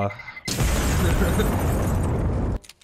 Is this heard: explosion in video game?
yes